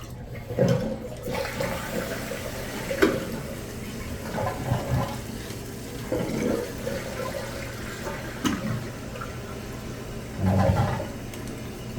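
A toilet tank refills after a flush during a rebuild of its inside parts, with a steady run of water and intermittent gurgles and knocks as the float rises, close and continuous with no talk.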